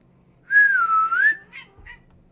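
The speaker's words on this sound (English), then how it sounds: "He does not like it when I whistle or go too high-pitched." A person whistles one sustained, gently wavering note lasting under a second, clear and close in a quiet room, followed by a couple of faint short chirps and soft rustles.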